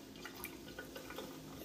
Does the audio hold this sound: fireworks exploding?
no